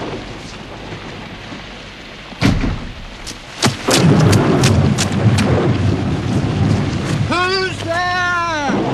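Thunder in a stormy TV period drama, with sharp cracks around the third and fourth seconds followed by a long, loud rolling rumble, and a voice briefly calling out near the end.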